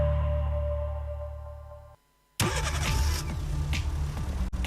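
Car engine in a radio advertisement: a steady tonal hum gives way after a brief silence to a loud, busy engine running with rattling and revving texture, no voices.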